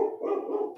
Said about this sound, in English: there goes my dog again